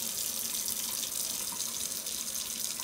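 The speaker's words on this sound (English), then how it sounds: "And then you start the water" Steady stream of water running from a tap into a sink, a constant hiss at moderate level throughout, with no talking.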